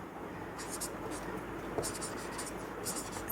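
Marker or chalk scratches on a classroom board as a teacher writes numbered notes, in short bursts of squeaky strokes, close and clear under a steady room hiss.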